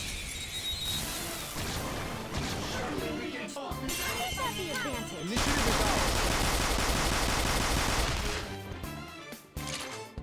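Rapid volleys of gunfire from the Bullet Hail skill in the video game Persona 5 crackle and shatter over a dense, busy game soundtrack, growing louder and fuller midway through.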